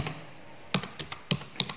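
Computer keys are struck in a sparse, uneven burst of sharp clicks, close and moderately loud, with quiet pauses between strokes.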